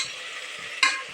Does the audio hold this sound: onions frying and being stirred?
yes